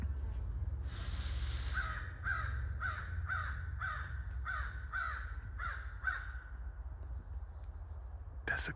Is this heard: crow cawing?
yes